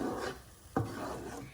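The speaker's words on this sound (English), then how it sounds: "So now we're mixing it until it gets a bit of a more textured consistency" Scraping and stirring of king prawn vindaloo sauce in a pan, a soft rasping rub that rises and falls over a second and a half, with one sharper scrape midway.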